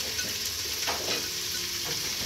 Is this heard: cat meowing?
no